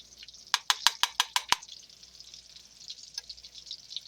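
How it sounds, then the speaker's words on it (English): Bacon grease goes into a frying pan for fried corn: seven quick, sharp metallic taps come in a steady rhythm, then a faint, continuous sizzle. "going to put some of the bacon grease in it"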